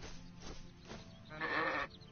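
A sheep in the Arcania video game lets out one short, fairly faint bleat over a steady game ambience.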